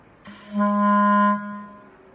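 A single sustained clarinet B-flat note, steady and clear with a soft attack, held for about a second before fading, with no talking.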